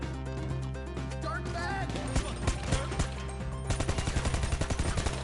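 Video game gunfire crackles in bursts of sharp shots, growing into a rapid rhythmic volley toward the end, layered over game music and effects.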